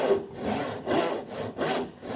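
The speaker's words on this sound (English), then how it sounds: "saw first very slow, adagio" A hand saw works slowly through a piece of wood, each long rasping stroke swelling and fading in a steady push-pull rhythm, three strokes close up with no voices.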